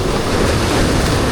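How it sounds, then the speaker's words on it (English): Big ocean waves crash and wash over the rocks along the coast at Narooma, Australia, a loud, continuous rushing surf with wind buffeting the microphone and no voices. "big waves, like washed everywhere"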